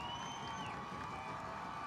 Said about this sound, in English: Winters Mill fans getting into it on their feet. John Lowe encouraging the home crowd to get loud.